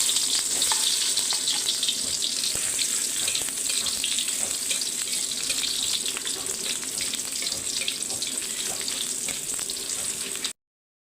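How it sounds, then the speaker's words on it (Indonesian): Shallots and garlic sizzle steadily in hot oil in a pan, a dense continuous frying hiss with occasional stirring scrapes, close and loud throughout before cutting off abruptly. "Tumis dulu bawang merah,"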